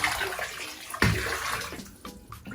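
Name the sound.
water sloshing in a bathtub of hot water and bleach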